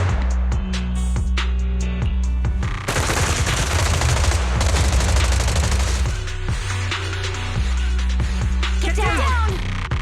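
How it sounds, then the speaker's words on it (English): Sustained suppressive marching fire from a Zenless Zone Zero story scene, with loud rapid volleys of gunshots in bursts that rattle on and off throughout, plus brief dialogue near the end. "Gunfire? This pattern. Suppressive marching fire."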